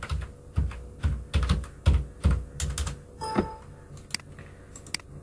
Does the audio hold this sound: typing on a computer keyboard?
yes